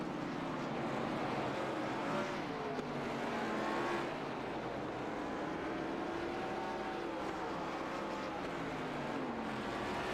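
Race cars on an oval track at Nashville, with engine whines rising and falling as the cars pass in succession, heard distantly and faintly at a steady overall level.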